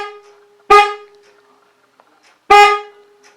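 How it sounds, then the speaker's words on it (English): Two loud, close blasts from the electric horn of a Honda CB350 motorcycle, each about half a second long, separated by a pause of roughly two seconds. "let me press the button for my horn"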